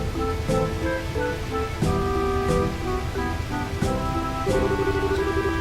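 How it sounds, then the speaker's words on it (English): Rushing waterfall fed by a man-made river in the video game Trails in the Sky, a continuous full wash of falling water with tonal game music layered over it. "So the waterfall comes from a man-made river."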